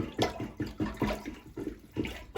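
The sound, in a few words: plunging water in a toilet with an old plunger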